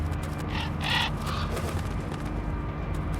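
Crows caw several times inside Metal Gear Solid: The Twin Snakes, a few harsh calls standing out over a steady low background hum.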